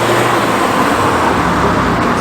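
A car engine idling and rumbling close by at a traffic light, loud and steady with road noise and no pauses.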